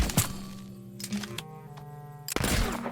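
Gunfire aimed at a small woodland critter in the video game Tamarak Trail: sharp cracking shots at the start, middle and near the end, over a steady humming game soundtrack.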